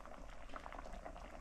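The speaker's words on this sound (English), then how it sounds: "Rice is boiling." Water at a rolling boil in a pot on a home kitchen stove, waiting for rice to go in: a steady, dense bubbling wash that holds even and close throughout with no pauses.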